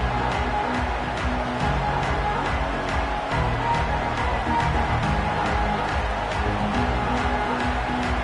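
A college football stadium crowd at a UCLA game roars in a steady, dense wall of cheering and noise around kickoff, loud and continuous throughout.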